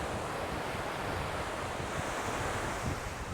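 Sea waves and swell breaking along the East Coast shoreline, a steady broad wash of surf with wind buffeting the microphone throughout, continuous and fairly close with no talking.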